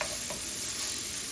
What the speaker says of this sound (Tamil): தக்காளி நல்லா நைஸாக வதங்கி வரணுங்க.